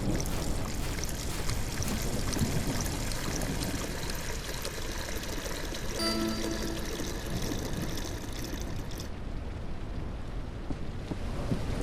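In the Sunset Motel video game, drinks are poured with a steady, dense splashing rush of liquid that runs loudly for several seconds and then thins out near the end, with no voices over it.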